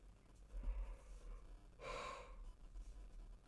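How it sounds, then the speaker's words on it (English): A person yawns once, a soft breathy inhale and then a longer airy exhalation in the middle, close and quiet with no talking. "If I could stop yawning, it would be nice"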